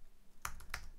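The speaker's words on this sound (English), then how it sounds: "I'm going to hit Command S on my keyboard, so I'm going to go ahead and save" Two quick clicks of a computer keyboard key combination pressed close to the microphone, a sharp tap followed by a second, quiet otherwise.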